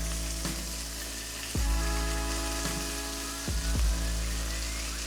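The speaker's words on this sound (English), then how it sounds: "We'll start by giving the pork belly a quick sear to develop flavor and a nice golden" Pork belly searing in a hot pan for Korean army stew: a loud, steady sizzle and crackle of frying fat throughout, with a few low thumps from the pan or utensil, close and without talk.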